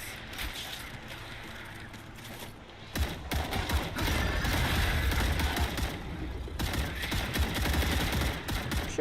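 Rapid automatic gunfire from a weapon in the sci-fi video game StarRupture, loud dense bursts after a short lull, continuing in sustained fusillades with brief breaks.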